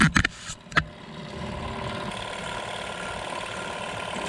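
A pump runs steadily aboard a 1977 Pacific Seacraft 31 sailboat, a low continuous mechanical hum after a few brief knocks and clicks at the start.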